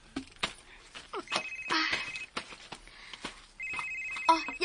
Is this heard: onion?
no